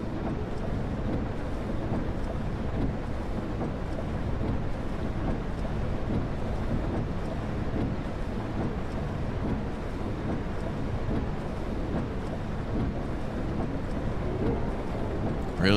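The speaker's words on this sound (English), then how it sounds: "Let's try a storm." Strong storm wind in a weather simulator game, a steady, loud, broadband roar that gusts and rumbles without pause and holds alone from start to finish.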